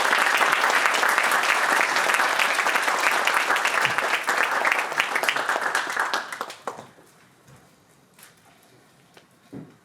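An audience applauds to welcome Professor Mittleman, a lecturer at ASU in Phoenix, with steady, dense clapping from a crowd for about six seconds before it thins to scattered claps and near quiet.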